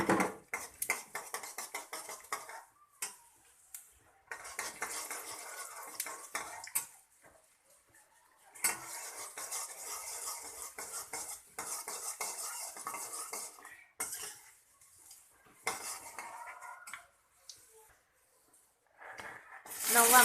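Mustard seeds, jeera, chana dal and urad dal stirred in a pan for masala dosa filling, a metal spoon scraping and clinking in bursts with sizzling between pauses.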